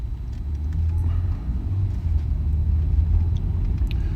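A car drives along a rural road near Garner State Park on a cold, windy day, a steady low rumble of tires and engine close by, with no one speaking.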